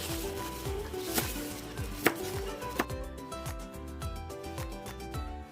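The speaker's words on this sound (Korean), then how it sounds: "양념에 들어갈 쪽파를 크기에 맞게 썰어 주시고요." A knife slices scallions for kimchi seasoning, with rapid, even chopping taps on a cutting board, close and clear, with a few louder knocks and no talking.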